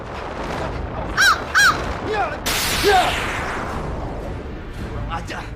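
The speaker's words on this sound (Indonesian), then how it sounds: "cuma burung gagak." Two loud crow caws ring out in close succession, followed by fainter calls amid a sudden whooshing burst and a dramatic soundtrack, with people talking in the scene.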